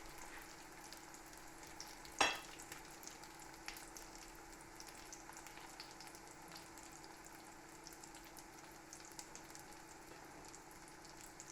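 Pheasant or duck pancakes crisping in a pan give a quiet, steady frying sizzle with faint crackles and one sharp pop early on, and no voices.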